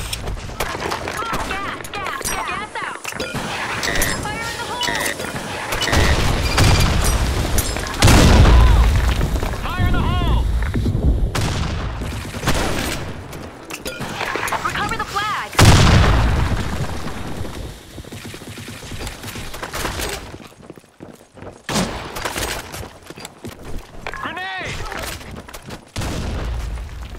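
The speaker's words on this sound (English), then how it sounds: "Fire in the hole! Gas out! Fire in the hole!" Grenade blasts and bursts of gunfire in the online shooter Blackshot during a competitive match, loud booming explosions layered with rapid shots throughout, with a player shouting callouts over the action.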